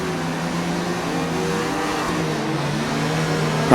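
In the F1 2019 racing game, a Formula 1 car pulls away on its formation lap with a steady engine note rising through the revs, close and continuous, with no talking.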